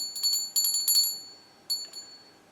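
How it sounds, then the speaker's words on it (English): A small hand-held bardic bell rung in a few quick bright jingles, then a pause and one last softer shake, close and clear with no talking. "I'm going to ring my little bardic bell"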